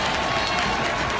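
Soccer crowd roaring steadily at a men's college rivalry match between Cal Poly and UCSB, the keeper waving his arms for more noise; a dense, continuous wash of cheering fills the whole stretch without letup.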